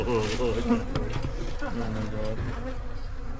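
Killer bees from a bee ball up overhead give off a dense, constant buzz that fills the scene, while a few people talk briefly over it.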